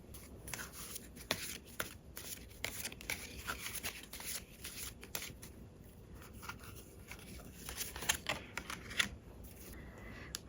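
Tarot cards being shuffled by hand: a steady run of crisp riffles and soft slapping flicks, close and fairly quiet, continuing for about ten seconds with no voices.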